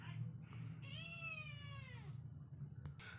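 A stray kitten lets out one clear, drawn-out meow with a rising then falling pitch, close by over a low steady hum, with faint indoor sounds around it.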